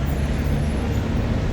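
A metro bus passes along a road in Mecca in the early morning, heard as a steady low rumble of traffic that stays even throughout, with no clear speech.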